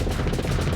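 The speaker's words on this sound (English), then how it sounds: "That's the ship's missiles." Ship's missiles fire in the space combat game Starsector, a rapid, dense volley of close, loud shots and thuds that run together into a continuous barrage across the short moment.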